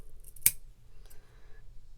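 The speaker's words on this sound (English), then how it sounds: "you're going to trim these pieces off and try to make them about the same" A single crisp snip of scissors trimming yarn for a pom-pom, close and clear against near silence, with a fainter second cut following.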